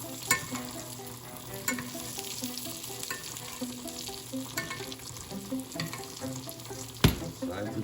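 Food frying in a hot pan while being basted, a continuous close sizzle with scattered spoon scrapes and clinks and one sharp knock near the end, no voices.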